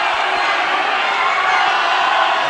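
A boxing crowd at a fight night chants and cheers for the young boxer Oscar, a dense, loud roar of many voices filling the arena without pause.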